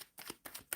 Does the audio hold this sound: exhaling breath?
no